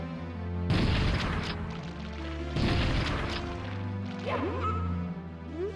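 A shotgun fires in modded Super Mario 64, with two loud, sharp blasts a couple of seconds apart, each ringing out over bouncy game music, followed by a springy cartoon effect.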